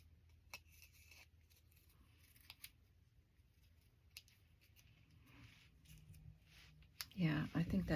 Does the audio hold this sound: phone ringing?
no